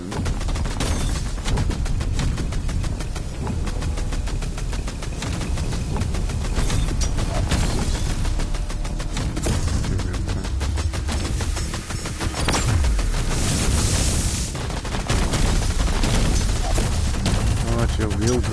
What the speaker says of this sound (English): She'll wield lasers with rapid fire.